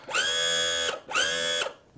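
A boat's inboard/outboard motor is raised on its power trim, two loud, close whining hydraulic pump bursts of about a second each with a short pause between, no talking.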